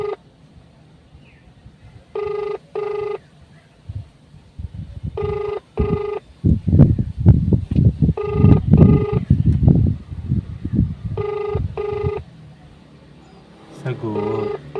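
Repeated telephone ringback tones sound in pairs of short bursts while placing a call to a delivery customer, with people talking loudly in between and over the rings.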